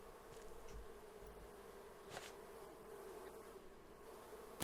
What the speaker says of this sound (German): Oh, das sind Bienen.